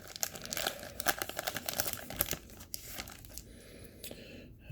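A foil Star Trek Deep Space Nine trading card pack is crinkled and torn open up close, with dense, uneven crackling and ripping that eases into quieter rustling near the end.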